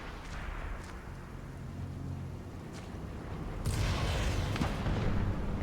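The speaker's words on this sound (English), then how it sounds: "why did I hear a rocket launch?" In a GTA roleplay game, a rocket launch comes with several scattered booms and blasts over a rumbling background. A louder, fuller burst arrives about two thirds of the way through.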